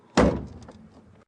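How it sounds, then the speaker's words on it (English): A safari vehicle door slammed hard during an evening game drive at Djuma, one loud, close thunk that decays quickly into quiet bush ambience. "when I got to slam this door quite hard"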